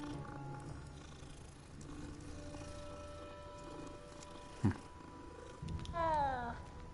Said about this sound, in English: hello, little cat.